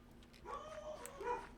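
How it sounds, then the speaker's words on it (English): Dogs bark and whimper downstairs, several muffled yips and barks drifting up from somewhere below, faint and indoors, without any talking. "Oh, dogs are barking."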